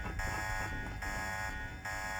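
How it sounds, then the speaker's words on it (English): Steady electronic alarm in the video game Deus Ex, a continuous buzzing tone droning loud and unbroken throughout. "Why the alarm?"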